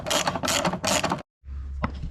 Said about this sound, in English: and so this is removing the fourth bolt